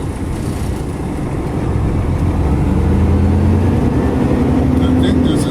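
A truck engine rumbles loud and steady at close range, its drone swelling slightly while the rig turns around to back into a loading dock. A voice speaks beneath the engine noise.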